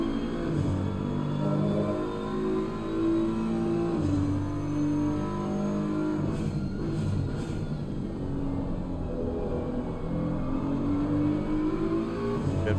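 A BMW race car engine in Assetto Corsa Competizione at Oulton Park, loud and steady from inside the car, its note rising and falling through revving and gear changes across the whole stretch.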